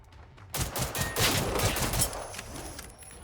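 A loud video-game gun fires in a rapid burst of shots after a brief quiet moment, then the echo fades into a low tail.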